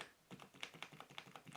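Keys on a Havit HV-KB380L LED backlit gaming keyboard pressed in a quick, steady run of about a dozen crisp clicks, close and fairly quiet, with no voices.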